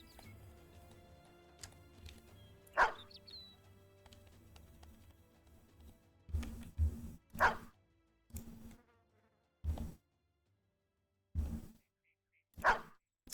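Dogs barking in the video game Battle Brothers, a series of short, sharp barks spaced irregularly over a quiet background, with a few louder clustered bursts later on and no talking.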